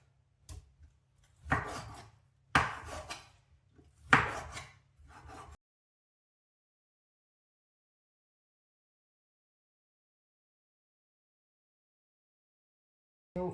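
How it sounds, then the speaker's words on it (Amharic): A knife chops through boneless chicken breast on a board, with three distinct heavy cuts and a couple of lighter taps, followed by a long silence before a final cut at the end. "እንደዛ አድርጌ እከትፈዋለሁ መሀሉ ላይ ለሁለት"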